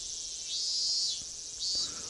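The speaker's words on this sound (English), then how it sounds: "Cicadas intensify." Summer cicadas in the Higurashi When They Cry game drone in a high, steady shrill that swells twice in brief waves, fairly faint and alone, with a couple of soft thumps beneath.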